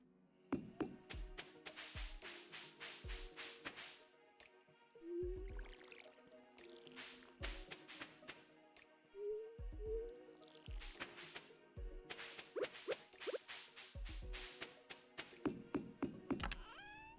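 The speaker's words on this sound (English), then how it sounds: "I'll water these" Watering cans sprinkling crops in the Stardew Valley farming game, repeated short splashy water bursts in a steady rhythm of sweeps, quiet and close with brief pauses between rows and no talk.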